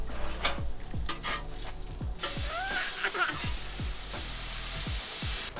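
Bacon frying in a pan inside a Jayco Eagle travel trailer, a continuous loud crackling sizzle with bursts of spattering, heard alone without talk over it.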